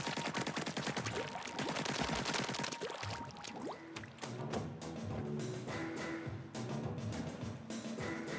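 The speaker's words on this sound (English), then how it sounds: "Send ink flying in all directions and reach the goal" Ink weapons firing in the video game Splatoon 3: a dense, continuous stream of rapid splattering shots and wet bursts, loud and close, with game music tones underneath and no talk.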